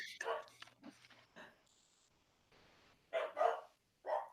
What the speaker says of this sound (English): what my dogs are barking at